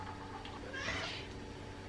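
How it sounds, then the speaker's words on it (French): Cats meow softly around a home kitchen while a vegetarian shepherd's pie is being prepared, one faint, brief mew rising over a low steady background hum, with no talk. "il y a mes chats qui viennent discuter aussi"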